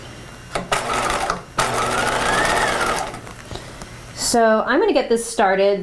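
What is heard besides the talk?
sewing machine stitching a jacket seam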